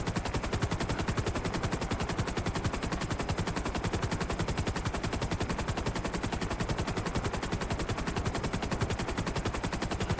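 Police gunfire in GTA 5 Online rattles without a break as rapid, dense automatic bursts at an even rhythm for about ten seconds, with no voices over it.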